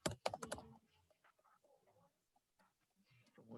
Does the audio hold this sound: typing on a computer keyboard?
yes